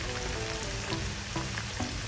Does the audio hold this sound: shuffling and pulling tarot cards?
no